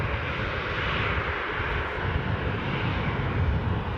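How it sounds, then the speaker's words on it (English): A Jet2 airliner pushes back at Newcastle airport, its engines giving a steady, broad roar that holds constant throughout, heard from a moderate distance with no voices. "I can see another Jet 2 pushing back."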